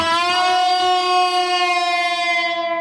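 A sustained electric guitar note, the 9th fret on the third string, bends slowly downward, its bright harmonics ringing steadily and loud for about three seconds before tapering.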